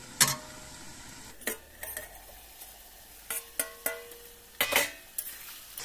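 A metal spoon clatters and scrapes against a pan as pumpkin is added to duck meat, with about a dozen irregular clinks and stirs over a soft background. The sounds are close but fairly quiet.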